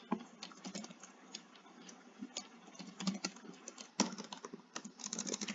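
Steady typing on a computer keyboard while a name is entered into property rental management software, quick irregular clicks at close range and moderate volume, no voices.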